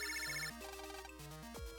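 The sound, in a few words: water heater alarm ringing in Mega Man Battle Network 2 video game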